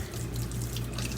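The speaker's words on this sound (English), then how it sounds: "Turn on the hot water" Hot water runs steadily from a tap in a home, a close, constant rushing stream with no pauses.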